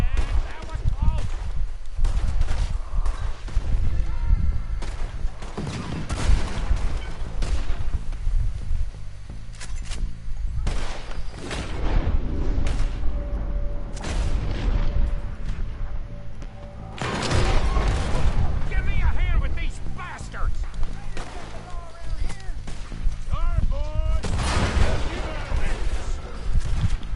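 Shotgun fire during a raider fight in the video game Red Dead Redemption 2, with loud, repeated blasts that come in clusters amid constant battle noise, with voices talking over it.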